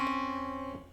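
Two notes a second apart sounding together as a dissonant interval, a single sustained chord that fades over about a second, alone with no talk.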